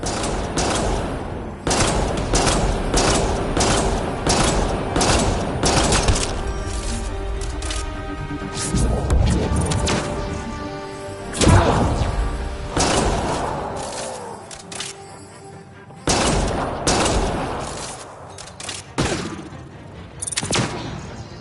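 Mass Effect: Andromeda combat brings bursts of rapid gunfire, heavy thuds and impacts in irregular volleys, loud and close, with brief lulls between exchanges and no talking.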